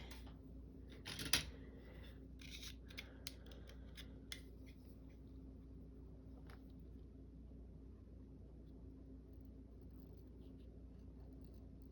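Scissors cutting paper for a collage page: a cluster of short crisp snips near the start, then a few isolated faint snips over a steady low room hum, no talking.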